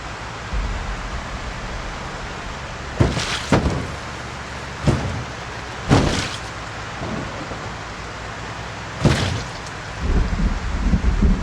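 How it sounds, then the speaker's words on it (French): Steady heavy rain hiss in a zombie survival video game, broken by several sharp thunder cracks and rumbles at irregular intervals, loud and close with no voices. "De toute façon, il y avait de l'orage."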